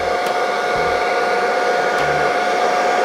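A hair dryer blows hot air onto a VW Scirocco badge to loosen it, a steady, close, loud whirring drone with no pauses and no voices.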